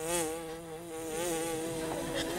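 A wasp buzzes close by at an outdoor holiday lunch, a steady, high, droning hum whose pitch wavers slightly as it hovers, with no talk over it.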